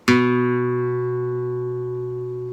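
A single plucked note on the 2nd fret of the A string of an acoustic guitar rings out clearly and sustains, slowly fading over a couple of seconds with nothing else heard.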